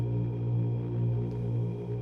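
A soloed synth layer on a low C sharp 2 note from a dark horror film score, soaked in heavy reverb and heavy-handed EQ, drones as a sustained, steady, rich tone with no voices.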